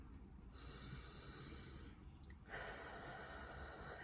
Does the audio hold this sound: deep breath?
yes